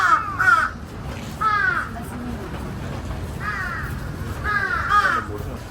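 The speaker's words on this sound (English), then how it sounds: "A lot of crows." Crows in Japan caw outdoors in short bursts of two or three calls, repeating four times at a moderate distance over low background noise, with no talking.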